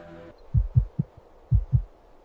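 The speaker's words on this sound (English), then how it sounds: "This species has an unusually fast heartbeat that supports its high digging activity." Fast heartbeat of a pink fairy armadillo, a small desert digging animal, heard as close, deep thumps in quick pairs, two double beats after a brief tonal hum at the start.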